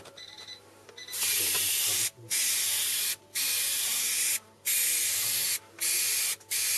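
Aerosol can of black paint sprayed onto a car bonnet in bursts, loud close hissing blasts separated by brief pauses, after a quiet start.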